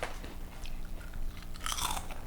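Close, crisp crunching as someone bites into and chews Korean snack chips, with several sharp cracks and a louder burst of crunches toward the end.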